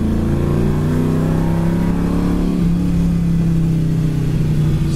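A 1969 Chevy Nova's engine revs steadily in second gear around 4,000 RPM, a loud, continuous droning hum heard from inside the car with a slight pitch shift midway and no talking.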